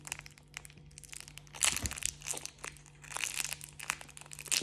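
Plastic wrapping of a small AliExpress parcel crinkles and crunches as it is torn open up close, in busy irregular bursts with a louder crush near the middle and no talking.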